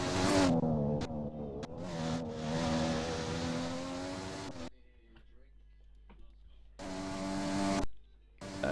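Mercedes Formula car from a racing video game on a hot lap, its engine droning loud and steady with harmonic whine, cutting out briefly midway before returning, with voices talking over it.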